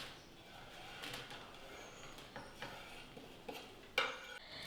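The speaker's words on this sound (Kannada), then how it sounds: "ಇನ್ನು ದ್ರಾಕ್ಷಿನೂ ಕೂಡ ಅಷ್ಟೇ ಸ್ವಲ್ಪ ಸಣ್ಣಕ್ಕೆ ಕಟ್ ಮಾಡ್ತಾ ಇದ್ದೀನಿ" Knife cutting raisins into small pieces on a board while preparing sugar-free laddu: a few faint, irregular taps and clicks with a sharper knock near the end, close and quiet.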